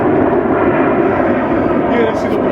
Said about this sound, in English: You guys hear the airplane?